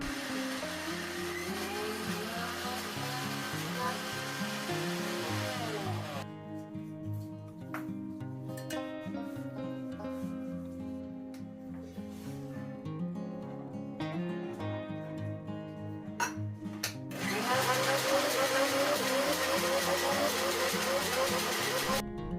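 A kitchen mixer grinder grinding lentils whirs loudly, stops for a stretch of quieter sounds, then roars back on at full speed.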